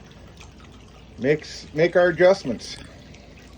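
Water runs through a Flower Gold Wizard 3-inch smooth-water cleanup sluice as a steady, low background wash, while someone talks over it for most of the stretch.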